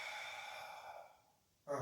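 A soft breath drawn in during a Pilates exercise, a faint airy inhale lasting over a second that fades out before a brief louder sound at the end.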